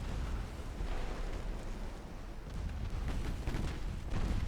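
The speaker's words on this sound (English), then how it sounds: "chipping away with our quick fire guns" Quick-firing naval guns blast away at the cruiser Worcester in a naval warfare game, a steady rumble of overlapping booms and bursts with no speech.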